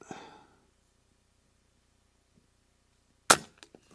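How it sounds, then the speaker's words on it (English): An Avenge-X Classic .177 air rifle fires a pellet with one sharp, loud crack after a quiet pause, followed by a few faint clicks, and a brief rustle is heard at the start. "Top right, first shot."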